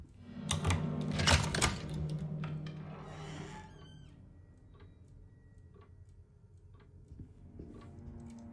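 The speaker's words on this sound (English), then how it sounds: "I'm touching your typewriter." Typewriter keys clacking in a sharp, close burst in the Alone in the Dark game, followed by quieter scattered ticks and clicks over a low ambient hum.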